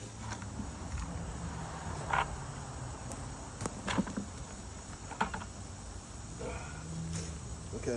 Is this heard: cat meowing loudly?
no